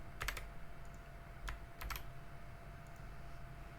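Light typing on a computer keyboard, a few quiet clusters of quick key taps separated by pauses over a faint steady background hum.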